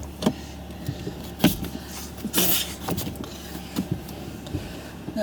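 A car's electric passenger window whirring down, followed by clicks and the thunk of the door opening on a street, with faint traffic in the background and no talking.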